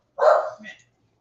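A dog barks once, a short sharp bark trailing into a softer second yelp, fairly close and alone in an otherwise quiet room.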